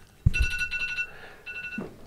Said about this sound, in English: While the phone rings